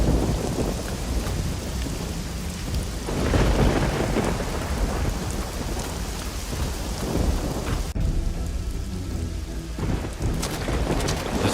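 A thunderstorm with heavy rain in the game Risen 2: a dense, continuous roar of rainfall with low rumbling thunder swelling throughout, loud and steady, no voices.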